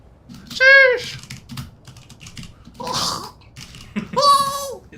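Someone types on an unfamiliar computer keyboard, with soft clicking keystrokes running low under bursts of squealing, animated voices.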